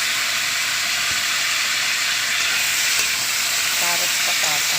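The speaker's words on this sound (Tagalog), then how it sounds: "Ipiprito ko rin bahagya." Carrots, potatoes and chili frying in a pan for igado, a loud continuous sizzle and hiss close up with occasional stirring scrapes, no voices.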